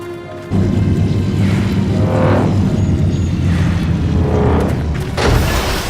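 A signal shot fired in reply during a Final Fantasy XIV cutscene: a deep boom erupts and hangs as a sustained rumbling roar, swelling in repeated waves before a second blast near the end.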